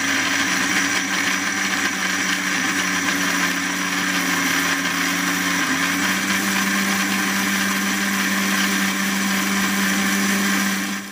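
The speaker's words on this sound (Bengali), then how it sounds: "মশলাটা আমি মিক্সিতে পেস্ট করে নিচ্ছি" Kitchen mixer grinder whirs loudly and continuously while blending a spice paste for chicken curry, a steady motor drone with slight shifts in pitch throughout.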